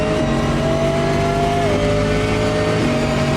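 Multi-class race cars, including a Corvette, Ferraris and a Maserati, racing at Indianapolis in the game Automobilista 2: loud, steady engine roar with a sharp gear shift and shifting engine pitch, no talk.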